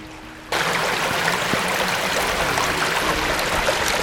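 The Gracestew Brook runs through a culvert beneath a canal in Charnwood Forest, making a steady, broad rushing of water that starts abruptly and carries on loud and unbroken.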